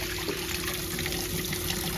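Water running steadily from a tap as the inside of an IBM Model F keyboard is rinsed, a continuous close splashing trickle with no talk.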